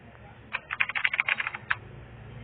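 Keyboard typing sound effect, a rapid run of about a dozen crisp key clicks lasting roughly a second over a steady low background hiss, with no voices.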